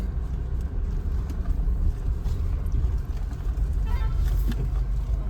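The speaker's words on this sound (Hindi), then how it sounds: "ट्रक की आवाज आई है।" A truck passing on a hillside road near Tapovan, Rishikesh, heard as a steady, loud low engine rumble that fills the whole stretch, with a faint higher whine swelling near the end.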